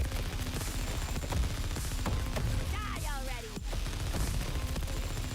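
Lasers and gunfire from the action game Suicide Squad: Kill the Justice League crackle in rapid bursts and impacts, with sweeping zapping tones midway, amid loud, cluttered game music and effects.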